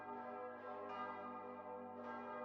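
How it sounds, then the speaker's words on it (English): Church bells toll steadily in a dismal medieval kingdom in the video game The Silent Kingdom, their layered ringing tones sustained and overlapping, moderately quiet and continuous with no voices. "Damn bells haven't stopped ringing all day."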